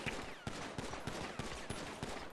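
Rapid gunfire at a shooting range in the video game GTA, a run of evenly spaced sharp shots at moderate volume, steady and mechanical.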